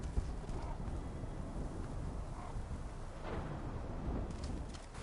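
A storm in Horizon Forbidden West fills the scene with a steady, dense roar of wind and rain, with low rumbling swells. It stays faint and continuous, with no clear voices over it.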